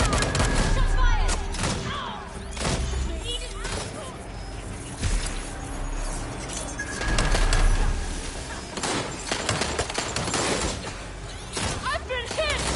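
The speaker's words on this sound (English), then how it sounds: "Shots fired!" Gunfire in the Watch Dogs Legion video game, sharp shots and bursts scattered through a busy soundscape, with voices talking and shouting around them.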